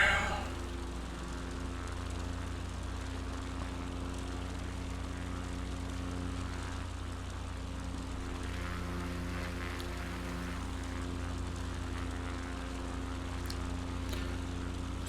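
Propeller engine of a Cubcrafters NXCub overflying an airport in Microsoft Flight Simulator 2024, a steady, droning hum with a constant pitch that continues evenly throughout.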